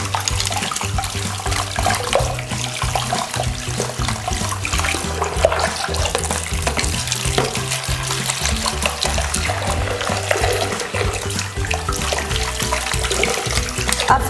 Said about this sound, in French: À présent, je vais rincer les pinceaux. En prenant soin de ne pas trop mouiller le manche.